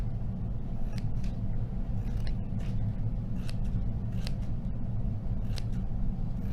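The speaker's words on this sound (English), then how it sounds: "I'm going to make lots of snips." Scissors make repeated quick snips into a paper plate, sharp clicks in an irregular rhythm, close by over a steady low background rumble.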